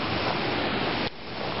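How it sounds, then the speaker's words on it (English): Little Manitou Falls waterfall on a river: a loud, dense, continuous roar of rushing water heard up close. "There it is, Little Manitou Falls."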